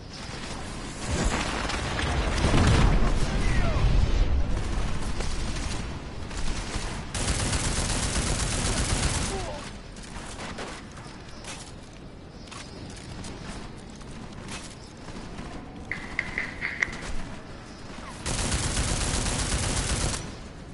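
Gunfire in the game Deus Ex: bursts of loud, rapid shots and blasts in clustered volleys separated by quieter stretches, close and harsh, with no talk.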